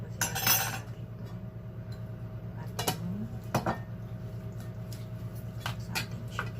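Metal utensils clink and scrape against a bowl while chicken stuffing with squash is mixed, several sharp irregular clinks over a quiet kitchen hum, close and fairly faint.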